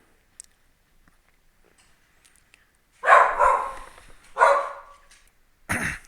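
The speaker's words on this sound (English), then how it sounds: "dog barking subsided" A dog barks indoors during a tabletop board game session: after a quiet stretch, three loud, close bursts of barking arrive in quick succession, the last one short and sharp.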